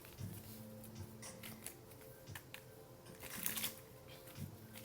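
Tarot-style cards for a pick-a-card reading are shuffled softly and close by, a series of quick riffling and tapping bursts spread across a few seconds with no talking.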